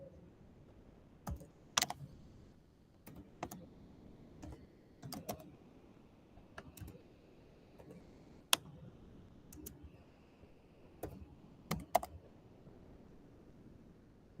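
Sparse keystrokes on a computer keyboard entering a live stream ID, irregular single clicks and short bursts spread over a quiet room, close and crisp with pauses between taps.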